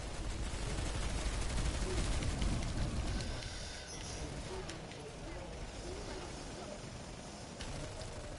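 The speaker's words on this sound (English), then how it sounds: "this gun is a burst weapon indeed" Burst-fire weapon shooting in the sci-fi shooter Planetside 2, with rapid clustered shots that are loud at first, then quieter and more scattered, mixed with other battlefield noise.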